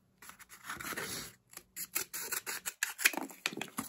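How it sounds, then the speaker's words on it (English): Scissors snip through a cardboard tube to halve it for a toy bulldozer, a run of close, crisp cutting and scratching strokes with brief pauses. "you're going to cut your second tube in half to make it look like the bulldozer part"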